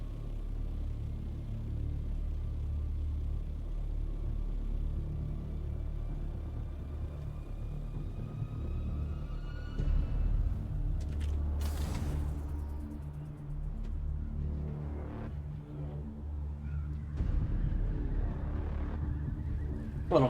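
A large sandstorm rolls in across the desert in Dune: Awakening, a steady low rumble of wind that holds throughout, with brief gusting surges and crackles layered over it near the middle and end.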